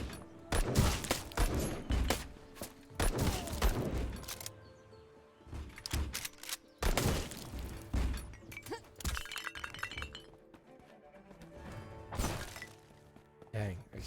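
Rifle shots in a shooter video game ring out in loud, sharp bursts scattered across the stretch, mixed with impacts and clatter, with game sounds between volleys.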